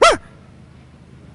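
A voice imitating a dog, giving one short, loud, sharp bark that cuts off quickly into near silence.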